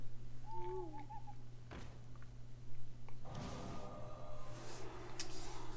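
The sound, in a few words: owl hoot in the Hearthstone video game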